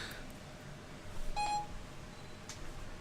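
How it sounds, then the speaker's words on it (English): A single short electronic beep from a locked phone's Siri activation, faint in a quiet room hum, with another faint blip later. "I'm not sure why Siri keeps popping up"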